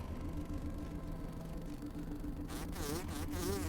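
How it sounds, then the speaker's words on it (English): A bee or mosquito buzzes steadily in the video game Grounded 2, a faint, continuous insect whine over a low ambient game rumble. "You a bee or a mosquito?"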